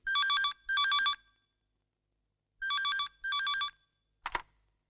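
An outgoing call rings on a telephone with two double bursts of electronic ringback, then a brief click or pickup at the end, with no talking.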